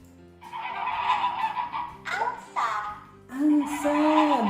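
A goose gives a run of loud, nasal honks close by, some drawn out and some clipped, with brief pauses between calls.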